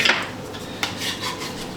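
Slices of double smoked ham set onto a plate after coming off an offset smoker: a brief scrape and soft clatter of utensil against the dish, close and alone.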